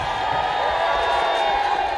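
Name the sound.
crowd gathered in York for city status visit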